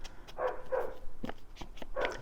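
A neighbour's dog named Ollie barks in a run of short, muffled yaps and woofs from a little way off, several in quick succession.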